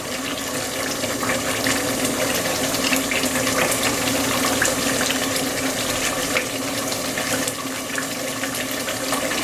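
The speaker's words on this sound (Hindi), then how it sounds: "2 to 3 ग्लास हमने वाटर डालना है। ये देखो इतना डालना है कि ये अच्छी तरह गल जाए" Water pouring steadily into a cooking pot of beef pasanday, a continuous loud splashing rush that holds for the whole stretch without pause.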